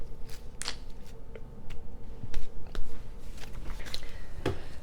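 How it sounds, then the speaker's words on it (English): Oracle cards being shuffled and pulled by hand, a close series of crisp riffling flicks and soft papery slides at an uneven rhythm. "So I am just going to start pulling cards and see"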